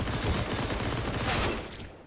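A Counter-Strike firefight plays out as a dense exchange of rapid gunfire sprays from both sides. The shots are loud and continuous for about two seconds, then taper off, with no talking over them.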